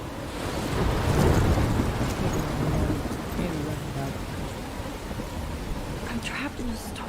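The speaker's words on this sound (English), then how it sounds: "I'm trapped in a storm?" Heavy rain and rolling thunder from a stormy night in the video game Life is Strange, a steady dense downpour with low rumbles swelling early and then easing under a constant wash of rain.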